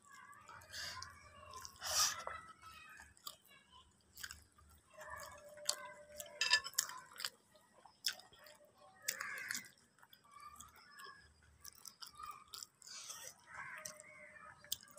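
Close, wet chewing of rice eaten with mashed potato and pickle, soft irregular smacks and small crunches repeating over quiet background, with no talking.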